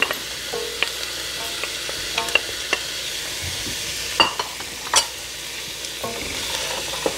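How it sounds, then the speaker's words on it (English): Onions, carrots and celery saute in a pan with a steady close sizzle, broken by sharp scrapes and clacks of stirring, no voices. "My onions have been sauteing for about 3 minutes, so I'm going to add the carrots and the celery."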